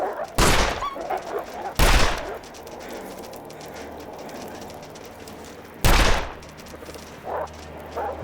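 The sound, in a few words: gunshots in the video game The Long Dark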